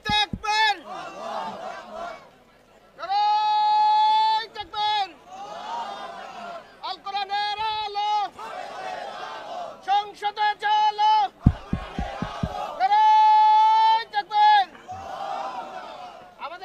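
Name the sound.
crowd chanting takbir at a religious gathering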